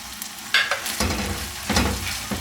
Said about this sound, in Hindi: तकरीबन 7 से 8 मिनट हो गए हैं मैं इसको लो फ्लेम पे भून रही हूँ